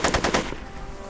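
Rapid machine-gun fire rattles in a quick burst of several close shots in a Back to the Future video game, set in a 1930s gangster scene, then trails off.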